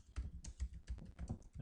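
Rapid typing on a computer keyboard while entering script code, a quick, close, irregular run of crisp key clicks at low volume.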